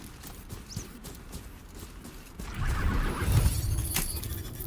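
A riding mount in Horizon Zero Dawn clops along in a quick, even hoofbeat rhythm that grows louder and busier halfway through, over a steady ambient game backdrop with no voices.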